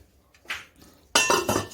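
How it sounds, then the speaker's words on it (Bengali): A metal lid is set onto a pot of date-jaggery payesh with a light clink and then a louder, ringing clatter as it settles, close and brief. "আমি আবার লিডটা দিয়ে ঢাকা দিয়ে দেবো"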